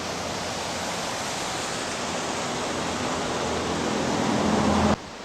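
Looney Creek rushes past beside a water treatment plant, a steady loud broadband wash of flowing water that holds constant before cutting off abruptly near the end.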